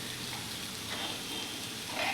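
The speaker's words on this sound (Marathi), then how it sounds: "यामध्ये जेवढं आवश्यक आहे तेवढं आपण यामध्ये दूध घालून घेऊयात खीर बनवण्यासाठी." Milk poured into melted sugar in a pan for kheer makes a soft, steady sizzling hiss, fairly faint and close, with a slight rise in bubbling at the very end.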